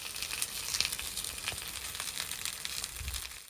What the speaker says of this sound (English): boy 2 got the barbecue started and started cooking up some sausages for our lunch